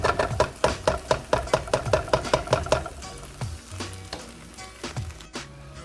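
Eggs frying in a hot pan with Spam fried rice, starting with a run of sharp rhythmic clicks and knocks, then a steady sizzle broken by a few utensil scrapes.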